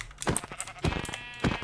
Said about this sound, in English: Oh, another sheep.